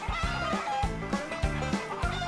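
Korean native chickens cluck in a steady series of close, fairly loud, repeated calls from several birds, with no voices.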